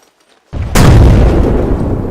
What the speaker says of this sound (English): Controlled explosion in 5, 4, 3, 2,